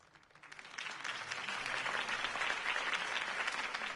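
Crowd applause in a video game swells up quickly and holds steady, a dense wash of many hands clapping at once.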